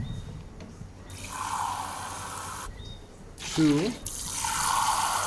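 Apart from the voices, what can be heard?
water being poured into a pot of rice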